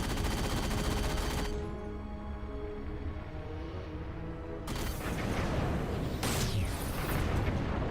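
Gunfire from a player shooting enemies in Halo 4, heavy sustained bursts and booming blasts with a quieter lull in the middle, loud and near.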